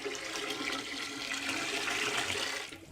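A toilet flushes with saved household water, a loud close rushing gurgle that surges steadily for nearly three seconds before tapering off as the bowl drains.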